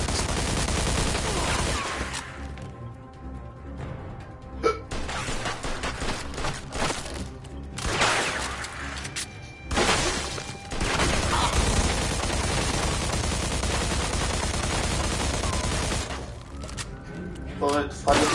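Sustained gunfire in the Mafia 2 video game, dense bursts and crackling shots layered with music and game audio, with voices talking over the shooting.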